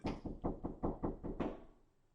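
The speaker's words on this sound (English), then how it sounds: "There is a knock at the door." Seven quick raps on a door, evenly spaced and close, then a short fading decay; no voices.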